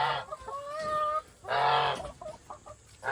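Backyard hens in a coop freshly bedded with straw cluck and squawk close by, in repeated bursts with drawn-out calls and short clucks, and no talking.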